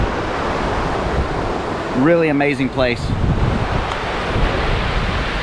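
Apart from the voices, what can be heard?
whitewater river rapids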